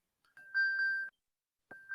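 An iPhone plays its Find My locating alert even while set to mute: a bright, steady electronic tone sounds twice, with a longer chime followed by a short pause and then a second start, clear and close in a quiet room.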